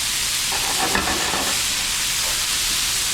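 Beef fries in oil in a large pan, giving a loud, steady sizzle with a dense hiss throughout and faint stirring scrapes.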